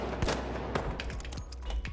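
Rifle gunfire in the shooter game The Finals, several sharp shots cracking in a fast, irregular volley over a steady low rumble.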